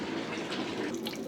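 Water sprays and patters steadily over malt grains during craft beer brewing with domestic hops, a close, continuous shower-like hiss.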